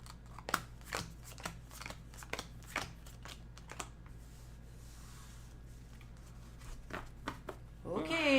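Playing cards dealt out for a Snarkas card game, a string of quick crisp flicks and slaps against the table in an uneven rhythm, close and fairly quiet, with a pause midway and people talking around it.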